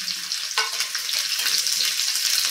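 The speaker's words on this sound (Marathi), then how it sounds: "हा लसूण छानपैकी आपल्याला परतून घ्यायचा आहे" Finely chopped garlic sautéing in hot oil with cumin, a steady bright sizzle that flares as the garlic goes in and then holds a dense, even crackle close up, with faint stirring and no voices.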